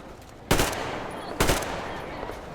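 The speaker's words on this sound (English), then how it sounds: "Oh, was I not supposed to shoot them?" Gunfire against mutants in Metro Exodus: two sharp, loud shots about a second apart, each leaving a lingering noisy tail, over a quieter ambient wash.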